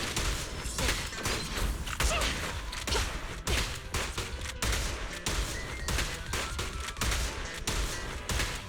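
Shotgun blasts from Zenless Zone Zero combat, dense repeated loud booms and clatter with whooshing effects running continuously for several seconds.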